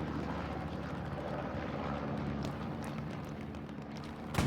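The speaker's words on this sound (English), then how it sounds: "So we have another airplane coming in." Airplane passing over a battlefield in the World War II game Hell Let Loose, a steady broad engine drone holding at even loudness throughout, rising slightly at the very end.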